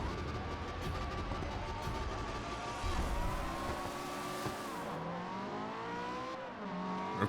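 A Ferrari engine in the racing game Forza Horizon revs continuously, with rising and falling pitch as it shifts through gears, sustained and fairly loud with a rough low rumble underneath.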